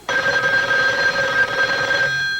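An unanswered telephone call rings as one loud, steady electronic tone that holds for about two seconds and then cuts off.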